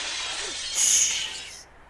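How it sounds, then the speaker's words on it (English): A glass gravestone shatters in the video game Alice Mare, making a bright, hissing crash that rises over steady background noise and then cuts off abruptly. "I just broke a gravestone."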